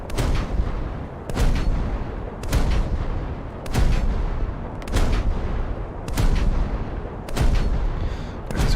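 Naval guns in a Japanese coastal warfare game boom in a steady series of heavy, evenly spaced blasts, each followed by rumbling, loud and close.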